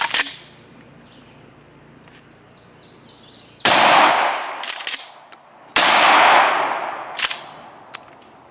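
A Remington Tac-14 shotgun loaded with double aught buckshot fires two loud, sharp blasts about two seconds apart outdoors, each followed by a brief ringing decay and faint clatter between shots.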